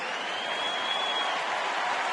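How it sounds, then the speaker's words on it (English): A baseball stadium crowd at a Chicago Cubs home game applauds Alfonso Soriano's sacrifice bunt with a steady wash of clapping and cheering, heard from a distance with no voices on top. "he gets a nice hand from the crowd"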